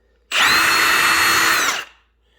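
A Flex power tool motor spins up abruptly, holds a loud, steady high whine for over a second, then winds down and fades to quiet, close by with no talking.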